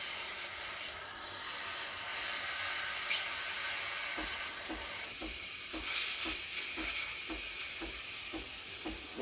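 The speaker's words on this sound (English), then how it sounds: "steaming the milk, you're gonna turn on the frother" A Breville Barista Express BES870 frother steams milk in a jug, a continuous airy hiss with soft rhythmic gurgling pulses in the second half.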